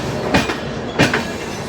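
Indian Railways Rajdhani Express (New Delhi–Dibrugarh) running just after departing Lucknow Charbagh, a steady loud rumble of train noise with two brief swells of rushing sound, no talk.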